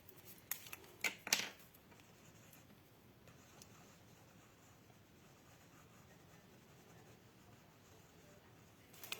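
Scissors snip a small piece of paper card for a handmade shaker card. A few quick, crisp cuts come close together at the start, followed by near-silence and one faint click at the end.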